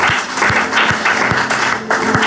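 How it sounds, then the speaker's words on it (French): A church congregation at worship claps and cheers for the Lord, a dense wash of applause driven by a steady rhythmic beat of thumping pulses underneath. "Est-ce que tu peux acclamer pour le Seigneur?"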